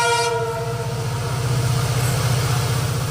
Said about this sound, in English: The train carrying coal passes through densely populated areas of South Goa